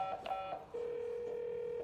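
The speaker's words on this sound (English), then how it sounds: "She turns her back and makes a phone call." Phone call being placed: a few quick keypad tones at the start, then a steady continuous dial-type tone holding for over a second, close and clear with no talking.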